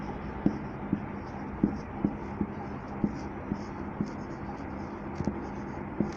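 Chalk or a marker taps and scratches on a classroom board during a third-grade maths lesson, a sequence of faint, evenly spaced strokes over a low steady hum.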